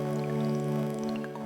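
Crispy dripping sample from the Excite Audio Evolve sample-based synthesizer, scattered bright droplet pings falling and rising over a steady sustained tonal pad, continuous and moderately loud with no voices.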